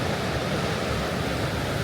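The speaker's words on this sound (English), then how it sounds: "There's a shot right there where the sea is breaking against this massive ledge" Sea surf crashing against a massive rock ledge on the coast at Spekes Mill, a steady, loud, dense roar of breaking water with no talk.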